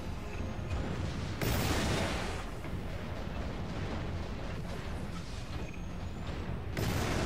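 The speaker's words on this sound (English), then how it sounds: "I'm just shooting the same spot over and over again." Dense, continuous gunfire and heavy blasts roar from a Warhammer 40k: Eternal Crusade online battle, loud and unbroken throughout, with several sharper bursts rising above the wall of shooting.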